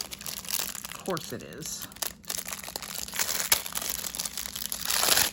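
Plastic packaging for a foot file crinkles and crumples up close in several bursts, with a tearing rustle mixed in as a person talks over it.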